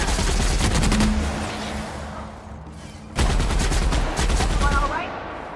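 Gunfire from the video game The Outer Worlds comes in rapid bursts of loud close shots, with a lull midway before a second dense volley.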